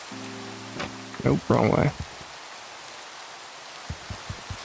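Minecraft rain falls as a steady soft hiss in a hardcore survival world, running under brief spoken words and a few in-game clicks and taps.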